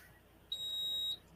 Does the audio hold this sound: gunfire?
no